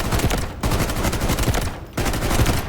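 Rapid automatic fire from a DMR rifle in the shooter game Delta Force, loud and close, a dense continuous burst with a short break before firing resumes.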